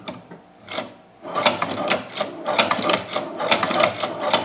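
Leather shoe patcher sewing machine stitching through leather with the walking foot down, a fast run of sharp mechanical clacks after a brief start, steady and close.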